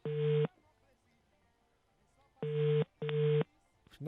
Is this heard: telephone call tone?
yes